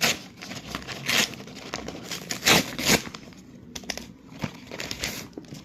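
A Flipkart parcel holding a MAK wireless microphone is opened by hand, its plastic wrapping crinkling and rustling in close, irregular bursts with a few sharper tearing crackles, and no talking.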